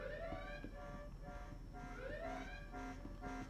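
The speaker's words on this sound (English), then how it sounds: "because of the alarm. It's constant. It doesn't stop." A repeating electronic alarm inside a flight simulator game mission: rising warbling tones alternating with short steady beeps in a continuous loop, moderately faint and with no voices.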